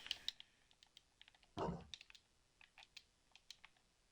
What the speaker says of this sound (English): Can you guys like hear my controller clicking?